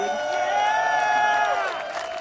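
A crowd at an Occupy Boston general assembly cheers for the volunteers, a sustained wash of voices with a bright whoop or whistle riding on top, steady and fairly loud for the whole stretch.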